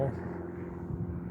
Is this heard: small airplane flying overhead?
yes